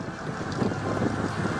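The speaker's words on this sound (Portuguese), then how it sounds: "É um tornado poderoso." Powerful tornado wind roaring steadily and loudly, a broad rushing gust with no voices over it.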